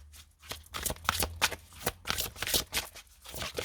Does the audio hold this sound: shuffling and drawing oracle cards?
yes